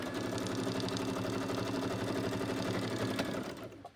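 A sewing machine runs steadily through a row of stitches, its fast even mechanical whir holding for several seconds before stopping abruptly.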